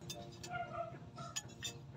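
Glasses clink together in a toast at a Japanese restaurant, giving several bright, light chimes over soft background murmur.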